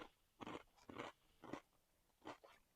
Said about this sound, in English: Sorry for the chewing in the microphone.